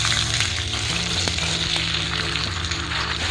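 Jackfruit pieces fry in a pan of sunflower and mustard oil, giving a dense, continuous sizzle with occasional crackles and light stirring, loud and close with no talking.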